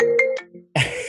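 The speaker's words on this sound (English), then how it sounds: "And her phone is not on silent." A mobile phone ringtone goes off during a podcast interview, a few short melodic tones close to the microphone, a brief pause, then a brighter, denser burst of ringing.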